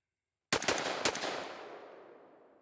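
Six rapid gunshots from a rifle fitted with a Delta Team Tactical forced reset trigger, fired in a quick burst of sharp, loud cracks with a ringing decay after the last shot; no talking.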